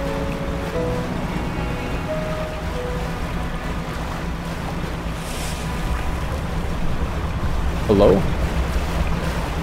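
Steady ocean wash around a small fishing boat in the game Dredge, a continuous low surf and wind bed, with a voice briefly speaking over it.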